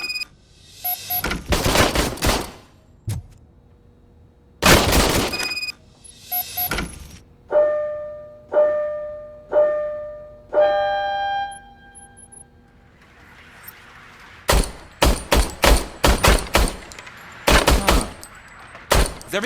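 An old service gun fires in RoboCop: Rogue City, producing loud close bursts of gunfire, including a rapid volley near the end, with malfunction-like tonal buzzing blasts in between.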